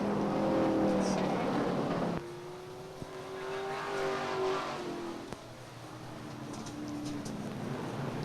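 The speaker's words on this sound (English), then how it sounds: "appears to be getting the car refired" Race car at a short-track speedway in 1993 after a spin on the backstretch, engine note droning and shifting in pitch in the distance while an announcer talks over the crowd-ambience background.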